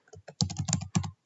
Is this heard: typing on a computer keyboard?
yes